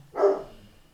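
Daisy, a pet dog, lets out a single short bark at close range, fading quickly into quiet room tone.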